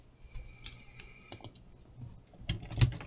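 Typing on a computer keyboard, scattered close key clicks and taps at an irregular pace, ending in a brief flurry of louder presses.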